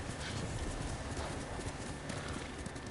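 A horse's hooves clop steadily across the ground in the video game Ghost of Tsushima, a continuous fast patter under a dense, even wash of background game sound, with no voices.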